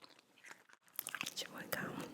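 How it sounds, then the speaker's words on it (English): Starburst chewing gum being chewed close to the mic, with soft wet smacks and crunchy bites in quick bursts and a brief pause near the start, layered with faint whispery breaths. "Today I'm chewing Starburst,"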